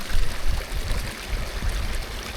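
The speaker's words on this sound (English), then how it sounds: "Oh, that's a deep splash, isn't it? You're splashing with the bubbles." A dog splashes and paddles through water outdoors on a mountain walk, a steady, close, churning wash of splashing with no talk over it.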